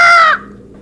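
A bird lets out a single loud, close call lasting about a third of a second, then it fades into quiet background.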